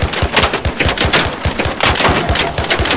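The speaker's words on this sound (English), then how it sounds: "You notice how much faster I was able to dump the mag?" Venator gun in the video game ARC Raiders firing in rapid succession, a loud, close, dense run of shots that keeps up without a break for the whole stretch.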